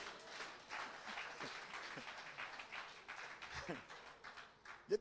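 Church congregation applauding and cheering during a French-language sermon, a steady wash of clapping and crowd noise that carries through the whole stretch, with a louder burst at the very end.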